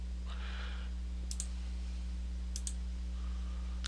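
Computer mouse clicks in two quick double bursts, crisp and close, over a steady electrical hum while a layer is set up in graphics software; no talking.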